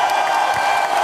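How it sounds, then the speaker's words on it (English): Dense audience clapping fills the short stretch as a steady, loud wash of applause with a hint of cheering, continuous from start to finish. "You need to clap a little louder."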